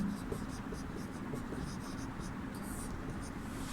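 Chalk or marker scratching steadily across a classroom board during a Hindi lesson, a continuous soft scraping with faint room hum and no voice.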